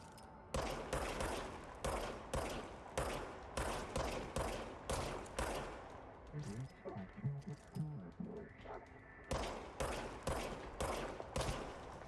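Rapid repeated shots from the service weapon in the game Control crack out in bursts, sharp and close, with a brief lull midway filled by softer game sounds before the firing resumes.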